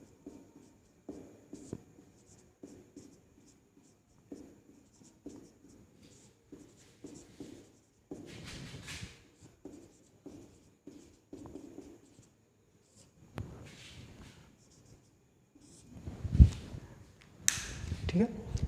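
A pen scratching across paper in quiet, irregular bursts of short strokes, with scattered pauses and a few louder knocks and shuffles near the end.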